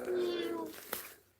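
A person's voice imitates a cat's meow, one drawn-out wavering mew followed by a short breathy sound, close and fairly loud.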